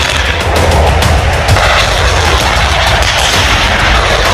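Advanced tanks fire several rounds during a multinational military exercise in Russia, making loud, dense booms and blasts that run together into a continuous, heavy barrage with no voices.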